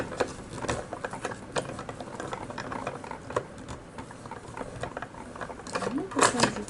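Die-cutting machine pulling card stock and a cutting die through its rollers, giving a steady run of close, fairly loud mechanical clicking and ratcheting over several seconds.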